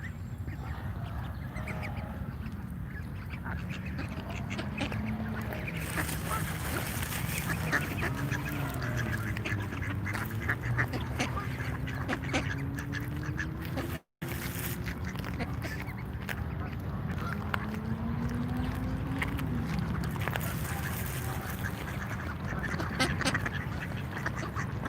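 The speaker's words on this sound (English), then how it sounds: "some ducks bickering a little bit." Several ducks quacking and bickering outdoors in Washington, DC, with repeated nasal calls rising and falling across a steady background rumble, one brief dropout midway.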